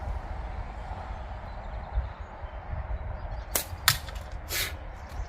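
A small budget slingshot fires at a target 10 to 20 meters off, producing a few sharp, brief snaps and cracks set apart over steady outdoor background noise.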